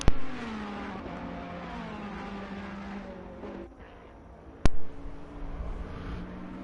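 Racing car engines, a Ferrari and a Bentley, from a sim racing video game at Paul Ricard hum at moderate volume. One engine note falls as a car slows, and a sharp click-like burst interrupts near the end.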